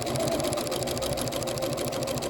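A sewing machine runs a steady basting stitch through the layers of a fabric bowl cozy, a continuous close whir with rapid even needle ticks and no talk.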